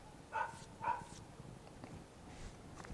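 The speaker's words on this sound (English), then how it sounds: "And I'm just going to bring the doggy in," A pet dog gives two faint, short barks early on, somewhat distant, followed by quiet indoor background noise.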